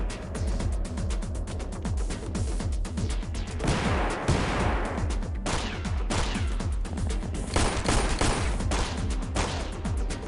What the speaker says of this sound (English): They just keep shooting their friend, it's hilarious.